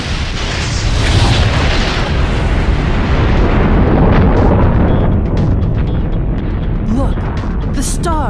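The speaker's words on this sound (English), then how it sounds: "Eta Carina does die in an incredible supernova explosion that destroys the star" Supernova explosion of the star Eta Carinae as a simulation effect: a sustained, loud rumbling roar that fills the whole stretch, then thins out into scattered crackles and whooshes near the end.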